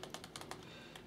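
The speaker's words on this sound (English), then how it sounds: "we then type in sudo" Rapid key clicks on a computer keyboard, a quick burst of several close, crisp taps with short gaps, heard up close with no talking.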